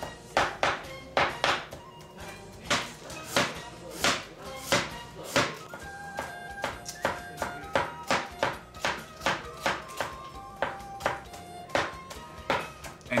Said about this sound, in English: we cut the shrimps in small pieces also